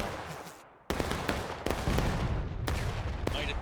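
Musket volleys in the video game War of Rights ring out on the Pry Ford map, a dense, continuous crackle of shots with several sharp reports standing out, fairly loud and spread across a large battlefield.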